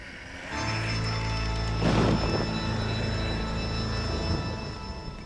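A thunderstorm in Red Dead Redemption: Undead Nightmare rolls as a deep, sustained thunder rumble swelling to a loud crack midway, over steady rain and wind-like hiss, with no voices.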